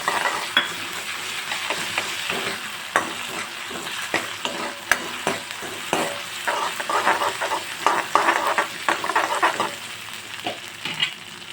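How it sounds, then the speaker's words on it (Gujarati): Onion and ginger-garlic paste sauté in a hot pan, a steady close sizzle broken by repeated scraping and clinking of a spoon stirring, with no talking. "ડુંગળી અને આદુ અને લસણની પેસ્ટને આપણે ગોલ્ડન બ્રાઉન સુધી આપણે સાતળી લઈશું"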